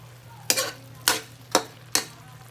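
A togue (bean sprout) dish stirred in a pan, four sharp scraping strokes at an even pace over a steady low sizzle, close and clear with no talking.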